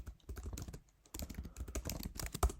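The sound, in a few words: typing on a computer keyboard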